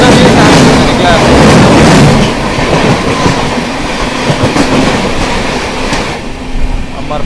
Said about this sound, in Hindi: अमरपाली एक्सप्रेस के साथ क्रॉसिंग हो रही है दोस्तों।